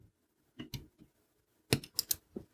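Wire cutters snip component leads on an Arduino prototyping shield, giving short crisp clicks: a couple of separate snips, then a quick burst of several close, fairly loud cuts.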